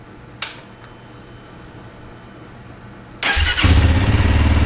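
A Honda CRF300L motorcycle engine starts after a quiet stretch broken by a couple of faint clicks, then catches and settles into a loud, steady idle close by.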